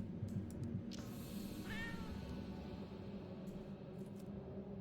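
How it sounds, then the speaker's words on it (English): A cat in the video game Tokyo Dark meows once, briefly and faintly, over quiet ambient game sound with a few soft clicks. "Oh, cat."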